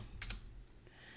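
Someone types on a computer keyboard entering data into an Excel spreadsheet, a few quick close key clicks, two sharp strokes early on, then a soft tap over a low room hum.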